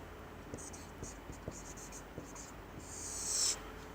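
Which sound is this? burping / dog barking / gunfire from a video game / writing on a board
writing on a board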